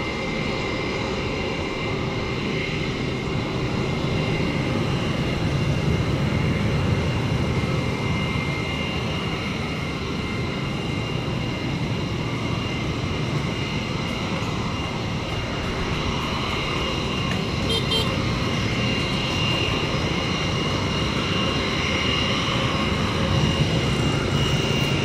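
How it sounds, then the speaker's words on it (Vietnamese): A steady, loud engine roar from an aircraft holding short of runway 25L before takeoff, a continuous broadband drone with whining tonal bands that never lets up, with no one talking. "Bây giờ thì chiếc máy bay này được lệnh tiến lên đường băng 25 trái và chuẩn bị cất cánh."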